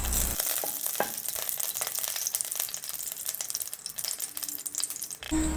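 Ghee heats in a hot pan for paneer curry, giving a steady close crackling sizzle with scattered pops and spits, loud and continuous throughout with no voices.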